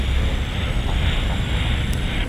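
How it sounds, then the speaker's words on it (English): Boeing 737-600 jet engines spooling up to takeoff thrust in the PMDG flight simulator, a loud, steady broadband roar that holds evenly throughout with no talking. "Takeoff thrust set."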